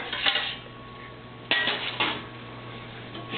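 A metal spatula scrapes and clanks against a metal pizza pan while freeing a pizza bianco, with sharp metallic hits near 1.5 and 2 seconds over a steady low kitchen hum.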